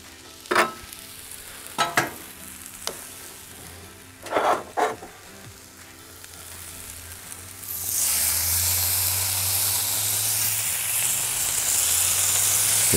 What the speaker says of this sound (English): We'll go ahead and throw some bacon over here.